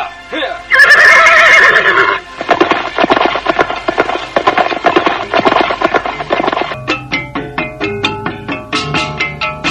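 Horses neigh in a radio drama, a loud shrill whinny followed by rapid hoofbeats and snorting, then a string of sharp, evenly spaced clip-clops near the end.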